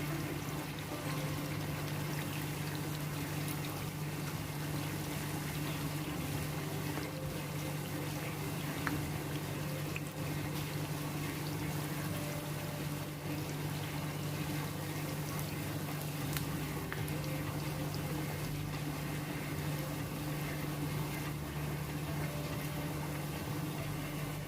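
Unniyappam batter frying in hot oil in the wells of an appam pan, a continuous steady sizzle and bubbling with a low hum beneath, unbroken and close for the whole stretch.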